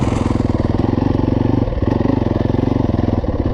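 A Yamaha YZ250F four-stroke dirt bike engine runs steadily and loudly up close, ridden without slipping the clutch, holding a rapid even thump with a brief dip in the middle.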